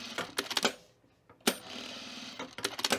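A domestic sewing machine stitches quilting fabric for a book sleeve in quick bursts of rapid mechanical chatter, pausing briefly between runs, close and moderately loud with no talk.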